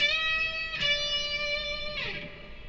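A distorted electric guitar sustains a note bent up on the 15th fret of the B string, with a second pick attack partway through, then releases and falls back down, playing alone with no talk.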